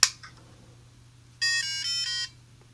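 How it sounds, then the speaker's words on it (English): Pocket Repeater Simon-style electronic memory game sounding a quick run of bright, high electronic tones for under a second, following a faint click, close and clear with no talking. "The Pocket Repeater is a Simon game."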